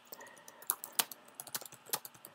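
Rapid, uneven keystrokes clatter on a computer keyboard, close and fairly quiet, with a few sharper key strikes standing out and no talking.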